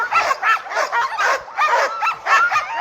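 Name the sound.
Alaskan husky sled dogs barking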